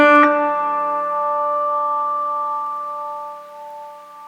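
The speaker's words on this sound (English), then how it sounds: "I'm going to pluck the high E string and then mute it straight away, leaving the other strings to resonate" A plucked note on the high E string of a 1959 Guitar Co. '59 Special is cut off right after the attack, and the other open strings keep ringing in a soft, sustained shimmer that slowly fades.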